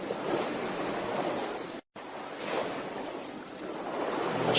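Ocean waves roll onto a seashore in a steady, loud wash of surf, broken by a brief gap of silence before the rushing water resumes and swells toward the end.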